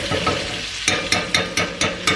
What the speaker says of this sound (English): I'm tilting the pan. I'm just basting it with butter.